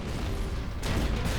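The heavy slug thrower in ELEX firing and exploding, a loud close boom with a deep rumbling body and a second sharp burst partway through, no voices.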